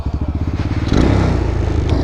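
A Boom Vader Grom clone motorcycle cranks with a rapid rhythmic chug, then catches and settles into a loud, close, steady idle with a slight clatter.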